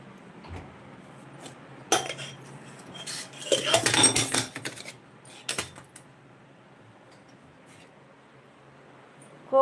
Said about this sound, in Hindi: अब मुझे अकेले बर्तन धोना पड़ेगा